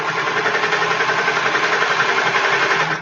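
A home sewing machine runs steadily for about three seconds, stitching a sleeve into place with an even, continuous mechanical whir and close, rapid needle rhythm at constant speed, no voices.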